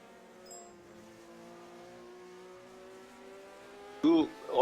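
A 1978 Formula One race car with a Lotus Cosworth V8 at Anderstorp: a steady, rising engine whine that holds for about four seconds, then a louder, sharper burst as another car closes in near the end.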